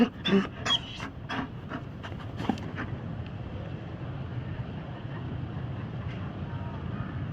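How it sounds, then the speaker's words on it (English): A Mabari war dog in the Dragon Age Inquisition video game pants in quick, breathy bursts early on, then fades into a steady windy rush, fairly close and moderately loud. "You found a dog?"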